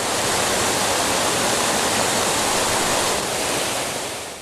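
Water pours steadily down a cliff in a dense, continuous roar, loud and close, with no gaps or talk, easing off slightly near the end.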